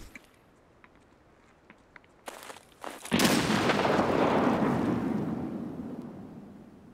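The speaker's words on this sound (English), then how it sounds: "That was a perfect nade." In the shooter game Escape From Tarkov, a few faint footsteps and taps precede a sudden loud grenade blast whose rumbling roar lingers and slowly fades over several seconds.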